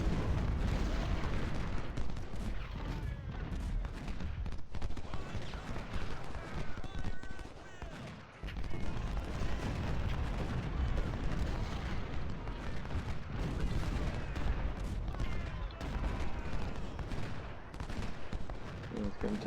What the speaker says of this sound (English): these guys are just taking artillery fire.